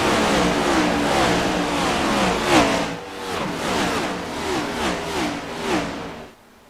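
Race car engines in a stock-car racing video game roar and rev hard as the field accelerates after a restart, with rising and falling pitch sweeps from several cars passing close and loud before cutting off abruptly.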